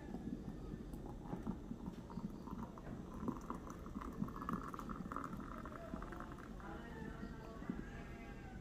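Coffee from an 18-cup moka pot is poured out in a steady, faint liquid trickle with a soft bubbling texture. There are a few light clinks and no talk.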